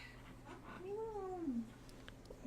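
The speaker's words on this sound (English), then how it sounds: "One of our cats is chasing a spider." A house cat chasing a spider lets out a single drawn-out meow, close and moderately loud, with faint household noise around it.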